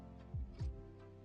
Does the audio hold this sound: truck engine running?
no